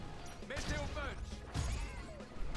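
Two loud crashing impacts of Goldorak's Meteor Punch attack in the game Le festin des loups, each a heavy smash with ringing metallic tails, set against game music and someone talking.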